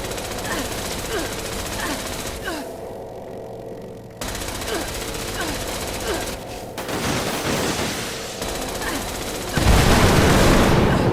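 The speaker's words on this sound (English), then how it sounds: "Try the Gatling gun." Rapid sustained Gatling gun fire in the video game Fallout 76, a loud continuous rattle of shots with brief pauses between bursts and a heavier blast near the end.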